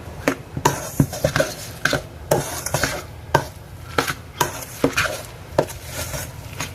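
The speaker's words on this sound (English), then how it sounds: "now we're just going to mix it all together" Potato pancake batter with eggs is stirred in a bowl, a utensil knocking and scraping against the sides in quick irregular taps, fairly close.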